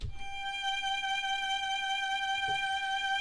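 A violin sustains a single G note on the first string in first position, one long steady bowed tone held clearly and evenly, close and alone without talk.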